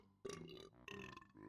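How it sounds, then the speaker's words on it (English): Cartoonish belches from the Banjo-Tooie video game, two drawn-out croaking burps in quick succession, close and clear with no talk over them. "Just belch and fart sounds."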